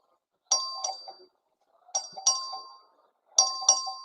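Voting bell in the Texas House chamber rung by the clerk, three clear electronic ding-dong chimes spaced evenly about a second and a half apart, loud and alone with a quiet room between strikes.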